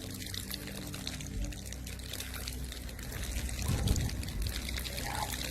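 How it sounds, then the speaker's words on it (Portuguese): A man expels water from his mouth in a continuous gushing stream, a loud unbroken pour and splatter that swells briefly toward the end before carrying on. "ele começa a soltar água como se fosse uma torneira, por vários segundos,"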